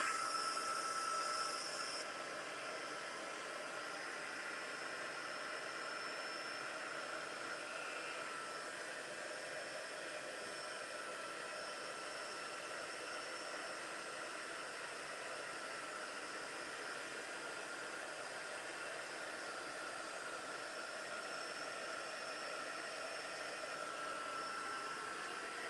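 A hair dryer dries paint on a scrapbook page, giving a steady, soft blowing whir that holds unchanged for nearly half a minute at low volume with no talk.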